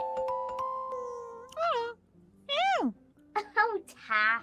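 Taffy the cat gives several meows with rising and falling pitch, near and clear, following a steady electronic tone at the start with a few sharp ticks.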